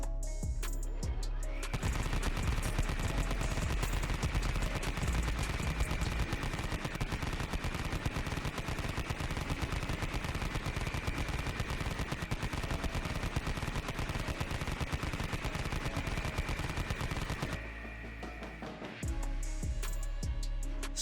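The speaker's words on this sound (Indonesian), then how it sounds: "Iron Axe menggunakan minigun untuk menghabisi musuh sekali napas." Continuous rapid minigun fire roars for most of the clip in one long sustained burst, loud and close, then stops abruptly.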